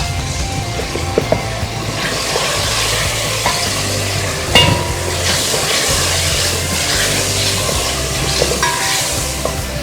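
Whole garam masala with cinnamon, black pepper, star anise, bay leaf, black cardamom and cumin sizzles in a pan while being stirred, a loud steady frying hiss broken by scraping strokes and an occasional clack.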